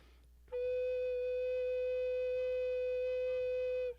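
An alto recorder holds a single F sharp for over three seconds, a clean, steady, flute-like tone that starts and stops cleanly, heard close and alone.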